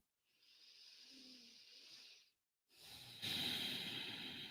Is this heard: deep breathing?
yes